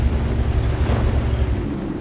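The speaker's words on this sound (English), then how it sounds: "We're firing around at him, and we got a direct hit." An SU-14-2 tank gun firing in a video game gives a loud, deep booming rumble that fills the short moment, heavy and close, with no voices.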